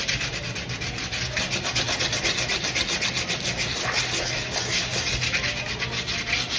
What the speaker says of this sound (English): you're gonna use your crayon sideways, and you have to use quite a bit of pressure